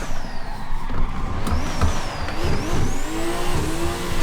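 A race car engine revs hard in a driving game played with Logitech G920 pedals, the pitch rising and falling through gear changes with a whining tone, loud and continuous.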